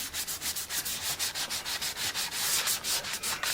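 Steady back-and-forth sanding strokes rubbing over a sprayed guitar finish in a workshop, a fast regular rhythm of scratchy swishes, close and moderately loud with no talking.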